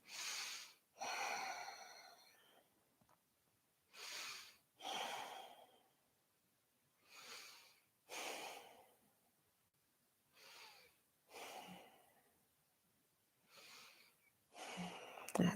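Deep, slow breaths during a yoga class, about eight evenly spaced inhales and exhales, close and soft, each a breathy rush followed by a pause.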